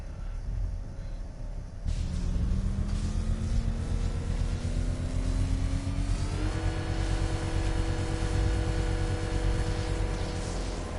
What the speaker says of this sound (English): I'm gonna rev the engine and give it an electrical charge